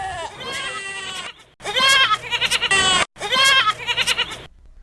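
Goats bleat in three loud, wavering bursts with short gaps between them: a billy goat, a nanny goat and their kids, close by and with no other sound.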